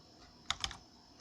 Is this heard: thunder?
no